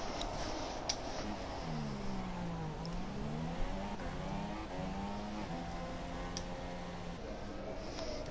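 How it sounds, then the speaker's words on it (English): Race cars at Spa in Speed Force Racing roar past, engines rising and falling in pitch as they pass, with a steady hum of several cars under the racing. "Got a car just going past him"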